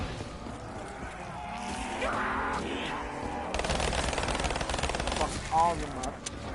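A burst pistol firing in Call of Duty 3 with a nightmare mod, rapid clustered gunshots crackling loudly over game noise and a voice talking throughout.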